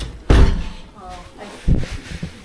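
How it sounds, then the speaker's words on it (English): The cabin door of room 337 on B deck of the Queen Mary ship in Long Beach swings shut with a heavy near thud, followed by a softer knock amid talking. "Let's close this door first and put this down."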